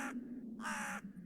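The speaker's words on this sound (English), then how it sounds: "Crows." Two harsh crow caws ring out in a snowy forest-edge scene from the video game Tiny Bunny, fairly distant and faint over a low steady hum.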